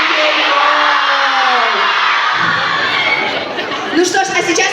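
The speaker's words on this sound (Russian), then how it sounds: "Давайте, мы кричим за кей-поп." A crowd of children at a live fan meetup in Kazan screams loudly for K-pop, a dense sustained roar of shrieks and whoops that thins into scattered shouts.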